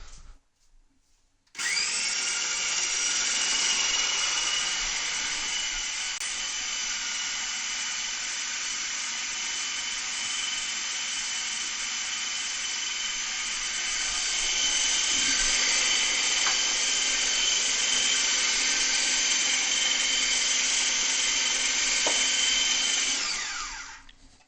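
A blender running continuously for over twenty seconds as it purees celeriac soup, starting abruptly with a loud high-pitched whir and holding a steady motor drone that deepens slightly partway through.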